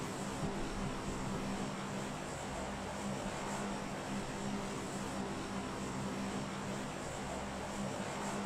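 Steady propeller-airplane engine drone in flight inside a video game, a continuous even hum with no breaks and no talking over it.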